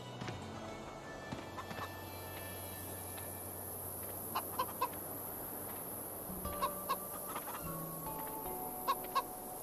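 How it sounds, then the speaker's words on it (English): Hens cluck in soft, scattered bursts in the video game Minute of Islands, set against a steady ambient background, with no voices. "The hens should be inside."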